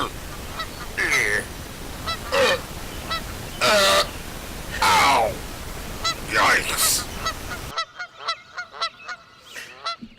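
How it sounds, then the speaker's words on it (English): A goose sound effect plays as a series of loud, harsh honks and squawks in irregular bursts, with a brief spoken exclamation mixed in and quieter repeated honks trailing off at the end. "you had a sound effect of a goose squawking"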